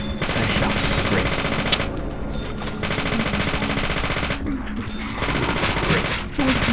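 Rapid gunshots at a shooting gallery in the video game Deadly Premonition crack in dense bursts, some fired in quick succession and others set apart by brief pauses. The shots are loud and close.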